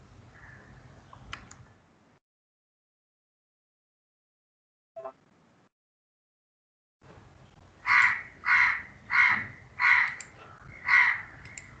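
A crow caws five times in a steady, evenly spaced run, close and loud, after a quiet stretch with a few faint clicks and a brief soft sound.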